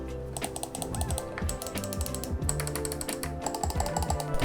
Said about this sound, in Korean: 스크롤 작동 시에는 작은 레칫 소리도 나게 됩니다